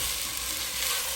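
Chopped tomato cooks in a hot pan with ginger garlic paste for a South Indian dish, giving a dense, steady sizzle and crackle that stays close and even, with no talking.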